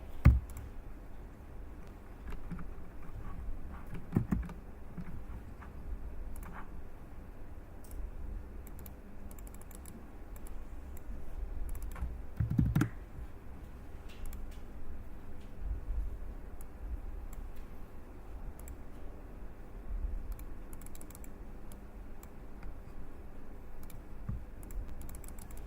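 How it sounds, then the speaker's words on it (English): Computer keyboard typing with mouse clicks while the Alt key is held, working in 3D modeling software; steady soft key taps and clicks throughout at close range, with a couple of sharper bursts, no talking. "I'm holding down the Alt key while clicking"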